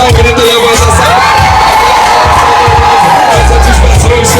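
A party crowd at a 15th-birthday celebration shouts and cheers loudly and continuously, a dense roar of voices with whoops rising over it and thumping low bass underneath.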